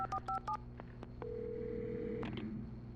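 Telephone keypad tones beep in quick succession in the video game Alan Wake Remastered, followed by a steady tone and a faint click on the line.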